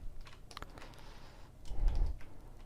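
Computer keyboard keys, including the Ctrl key, tapped in a short irregular series of close, crisp clicks during 3D character modeling work, with a slightly heavier press near the end.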